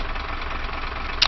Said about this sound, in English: So let's start the diesel. You'll see the RPM. 80 RPM idle.